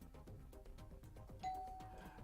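A quiz buzzer bell at a school academic competition sounds once, a short bright tone ringing partway through, over faint busy room noise.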